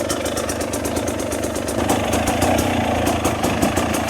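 An off-road motorcycle engine churns steadily on a slippery trail of rocks and tree roots, a loud, close, continuous mid-pitched drone with a rapid pulsing throb and slight swells as the throttle is worked.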